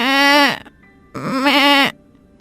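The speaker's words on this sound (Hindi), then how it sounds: "उसकी बीमार बकरी मुंह घुमाकर जोर जोर से मिमियाने लगती है।" A sick goat bleats loudly twice, each call long and wavering, with a short pause between them, close by and with no other voices.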